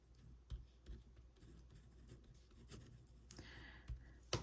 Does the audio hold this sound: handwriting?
yes